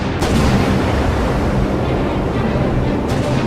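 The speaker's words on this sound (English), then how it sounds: "Sydney unleashes a full 8-gun 6-inch broadside at point-blank range" An Australian warship's full eight-gun six-inch broadside erupts as a loud, sustained rumbling roar, dense and booming throughout with a couple of sharper blasts within.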